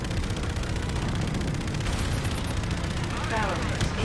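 Continuous rapid gunfire crackles in a space-combat video game, dense and loud throughout, with explosive bursts layered over the barrage and no pause.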